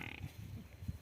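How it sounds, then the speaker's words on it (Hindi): A recorded buffalo calf call plays from a phone speaker as a short, faint run of low grunting bleats outdoors. "उसने अपने भैंस के बच्चे की आवाज़ रिकॉर्ड कर रखी है और फिर फ़ोन में चला रही है"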